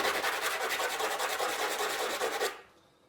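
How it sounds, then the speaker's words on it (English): An old orbital sanding disc rubbed by hand over tape: a close, steady, rapid rasping scrub for about two and a half seconds, then it stops abruptly. "I tend to take my old orbital discs and save them for stuff like this"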